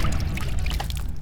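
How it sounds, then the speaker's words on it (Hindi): Water pouring steadily, as if filling a swimming pool with warm water, in a continuous close rushing wash with no talking. "पानी का आवाज आ रहा है"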